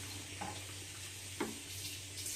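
Water runs and splashes at a kitchen sink as a serving bowl is rinsed, with a steady faint hiss and occasional small clinks while rice pudding boils nearby.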